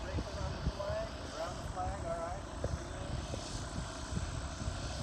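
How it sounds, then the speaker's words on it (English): An RC drone aircraft at a Toys for Tots fly-in makes a high-speed pass, its engine whine rising and sweeping across steady background noise while people talk nearby. "Here comes Blair Witch drone for a high-speed pass."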